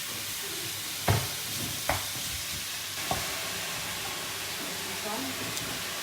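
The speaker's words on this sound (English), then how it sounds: "now we're putting the beef, the mince" Beef mince tipped onto onions frying in a pot makes a continuous hiss and crackle, broken by a few sharp utensil knocks against the pot and a faint voice in the background.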